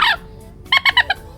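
A small bamboo pipit whistle about 10 cm long, fitted with a buffalo-horn reed, gives a short bright bird-like chirp, then after a pause a quick run of four sharp chirps, close and clear.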